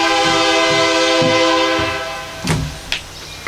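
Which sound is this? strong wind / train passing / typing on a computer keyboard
train passing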